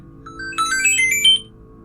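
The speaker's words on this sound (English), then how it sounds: "And there goes my phone." A phone gives a short electronic chime or ringtone, a brief melodic burst lasting about a second over a low steady background hum.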